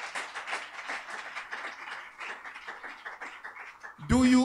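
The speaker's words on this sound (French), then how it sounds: "Put your hand together for Jesus." A church congregation claps their hands for Jesus at an inaugural worship service, a dense, steady patter of many hands kept up for about four seconds before a sudden loud voice cuts in.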